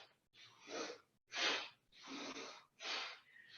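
Forceful yoga breathing during an arm-lifting exercise: four strong, rushing breaths, inhales and exhales alternating in a steady rhythm, close and loud with short pauses between, no talk.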